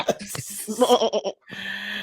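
A person imitates a sheep with a series of wavering bleats, a quivering run of nasal cries followed by a longer drawn-out bleat, close and loud.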